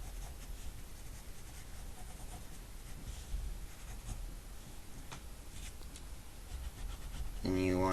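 A pencil scratches steadily on paper while drawing a manga figure, with soft continuous strokes heard close up and a voice briefly at the end.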